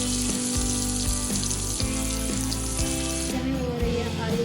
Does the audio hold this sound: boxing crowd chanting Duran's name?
no